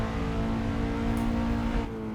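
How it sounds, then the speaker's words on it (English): A Skip Barber Formula 2000 open-wheel racer with a small 2-liter single-overhead-cam Dodge four-cylinder engine, driven in Assetto Corsa, holds a steady sustained drone at high revs, easing off slightly near the end. "It's supposed to be running a Dodge 4-cylinder engine."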